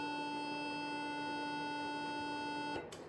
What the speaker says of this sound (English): When we get to the D string sounds a little bit higher, sounds like this.